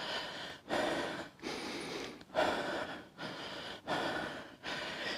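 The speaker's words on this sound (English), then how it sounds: "Whenever you are breathing hard like this, your heart rate is up" Heavy, labored breathing after a strenuous yoga strength session, with rhythmic deep gasping inhales and exhales repeating roughly every second, close and loud with no talking.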